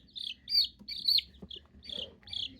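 Young chick, already growing its real feathers, chirping loudly while being held: a run of sharp, high, piercing peeps in quick bursts, close and prominent over faint handling noise.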